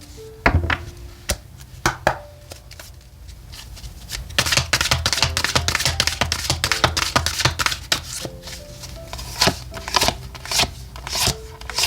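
Tarot cards are handled and shuffled close up, sharp riffling snaps and soft slides arriving in uneven clusters that thicken into a busy run of crisp card flicks midway, with no talking.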